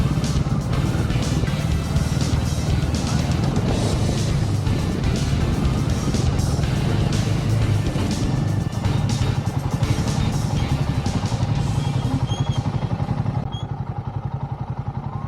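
Motorcycle ridden along the rough Sangla Chitkul Road in the Himalayas, engine droning steadily up close with clattering and rattling over the surface, the level dipping briefly near the end.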